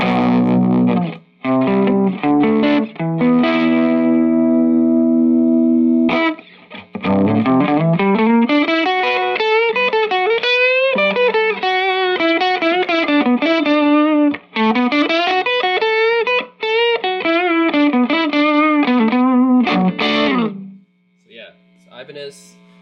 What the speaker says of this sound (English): this should be just the Ibanez TS808 effect now